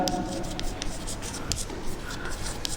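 Marker or chalk scratching across a board while a formula is written, a run of short, quiet strokes and taps in a classroom setting, heard close and faint with no speech over it.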